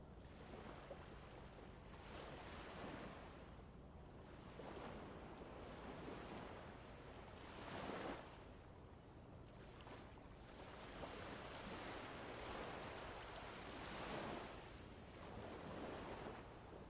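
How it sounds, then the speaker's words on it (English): Ocean waves beneath a ship at sea, heard as faint, slow swells of washing surf and wind that rise and fall in a gentle rhythm. "The sea breathes beneath you with a slow, steady rhythm"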